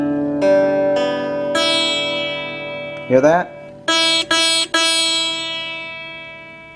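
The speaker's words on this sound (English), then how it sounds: "you're getting a sitarish sound because the string is buzzing over this long saddle piece here" Sustained guitar notes ring out with a sitar-like buzz from the high E string rattling over the long saddle of a PRS wraparound bridge that leans forward, struck several times with short pauses and a brief spoken remark.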